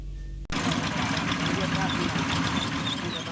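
Hand tractors work in rice fields in Desa Lebu, Aceh Barat, and their engines run in a steady, dense mechanical drone. The sound starts abruptly after a short pause and goes on without a break.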